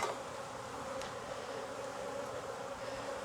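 Honeybees buzz steadily around an open hive during an inspection, with a dense, continuous drone at close range and no talking.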